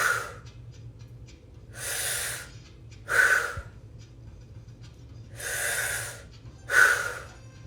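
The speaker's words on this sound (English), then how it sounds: "Let's begin deep breaths" Deep breaths of a clearing breathwork exercise rise and fall in a slow rhythm, with airy inhales and forceful exhales up close, some ending in a sharp nasal edge, against a faint low hum.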